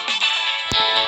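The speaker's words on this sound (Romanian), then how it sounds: "Sună telefonul" A phone rings with a steady, bright electronic tone that holds for about a second, loud and close, broken briefly by a sharp click.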